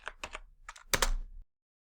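Typing on a computer keyboard while entering a dimension in Onshape CAD: two quick clusters of keystrokes, then a firmer burst ending in a heavier key press, close and clear with no talk.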